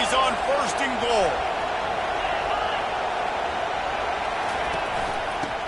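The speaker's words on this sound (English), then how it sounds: "Fans are bringing the noise on first and goal." A stadium crowd roars steadily through a football game in EA College Football 25, with some brief sharp sounds early on, and a voice talks over the noise.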